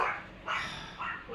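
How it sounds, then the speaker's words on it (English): Small dogs, Japanese Spitz and Pomeranians, barking indoors in three quick yappy bursts, fairly close and moderately loud, with no talking. "I have very noisy dogs."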